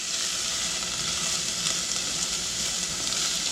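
Carrots, onion and celery softening in a hot pan on a stove, a steady bright sizzle with gentle crackles, close and continuous with no voices.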